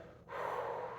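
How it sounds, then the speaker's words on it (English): A single audible exhale during a yoga twist, a short breathy rush of air that swells after a brief pause and holds steady, close and alone. "Exhale."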